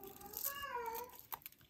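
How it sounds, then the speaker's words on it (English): Cats meow indoors, one drawn-out, wavering meow followed by a shorter faint cry, fairly quiet against a soft background. "I'm sure you can hear my cats"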